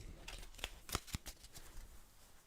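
A deck of side-effect cards from the Final Girl board game is shuffled by hand, close and soft: a quick run of papery riffles and taps, with a few sharper snaps in the middle.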